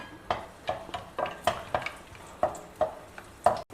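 Cashews and raisins frying in ghee, a soft sizzle broken by repeated sharp scrapes and clinks of a spoon stirring in the pan, roughly eight strokes in a loose rhythm, close and unaccompanied by talk.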